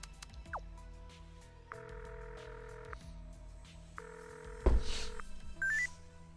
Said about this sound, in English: I kind of want to make a phone call real quick